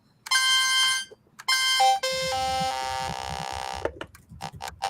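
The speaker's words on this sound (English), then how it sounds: "I like the chiptune sound effect. Yeah, this is the sawtooth." A homemade chiptune synthesizer plays bright buzzy sawtooth tones in short held notes and a stepping run of pitches, loud and close, with faint voices in the background.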